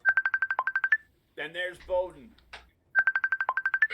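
Facebook call ringtone, a steady run of short repeating electronic beeps in quick rhythm, sounding before and after a brief stretch where someone talks.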